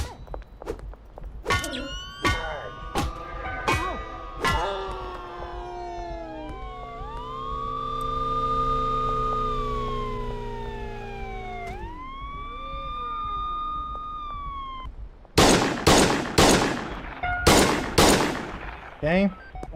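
Police car sirens wail and yelp from a video game, rising and falling tones held for several seconds, surrounded by sharp bursts of rapid gunfire before and after, loud and close.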